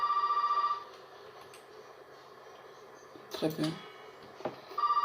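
A telephone rings in Resident Evil 7, a close electronic trill at the start that returns at the end, with someone speaking French and a few thumps between.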